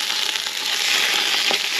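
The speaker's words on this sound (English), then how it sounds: "now you throw your beef into the pot" Beef fries in hot oil in a pot over an Ozpig wood-fired stove, making a loud, dense, continuous sizzle heard up close for a brief moment with no talking.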